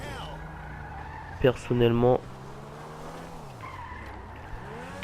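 A new Proto car in GTA Online revs and skids with a short tire squeal, its engine tone rising and falling around it, while someone talks over the game sound.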